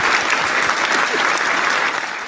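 An applause sound effect, a burst of crowd clapping, plays on a podcast, loud and continuous for a couple of seconds before tapering slightly at the end.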